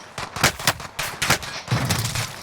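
Rapid bursts of automatic gunfire from a Warzone battle royale match: several sharp, loud volleys in quick succession, close by, with no talking.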